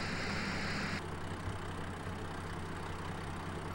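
A tractor engine idles in Farming Simulator 2013, a quiet, steady low hum with a faint higher tone that drops away after the first second, holding on without speech.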